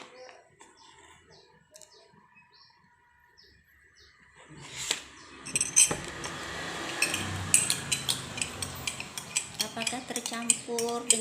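A spoon stirring sugar, water and oil together in a glass, with quiet clinks early on, then a run of brisk rhythmic clinking and scraping that grows louder and closer, with birds chirping faintly nearby.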